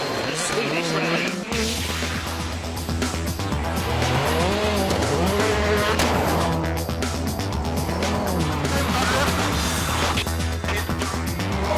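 Rally cars on studded tyres race flat out over snow and ice at the Swedish Rally, engines screaming and shifting through gears as they blast past, loud and continuous, with a commentator talking over the noise.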